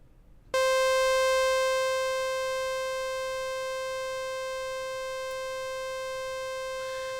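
A C4 note on the Arturia Jupiter 8V software synthesizer, a harsh, buzzy sustained tone rich in harmonics that starts abruptly and holds steady, slightly softening, with no other sound.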